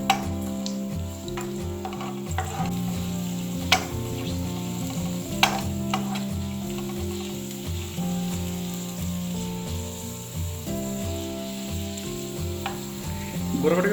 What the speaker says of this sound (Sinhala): ගොරක ටික ෆ්‍රයි වෙගෙන යනකොට